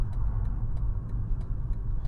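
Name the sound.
car engine while slowing down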